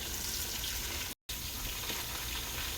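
Garlic and onions frying in a pan, a steady close hiss of sizzling that runs on continuously, with one brief silent gap, and no voices.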